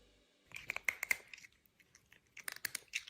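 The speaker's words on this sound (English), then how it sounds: "Who's crunching? Who's crunching over here?" Someone nearby crunches food in brief clusters of crisp bites with pauses between them, one group early and another near the end.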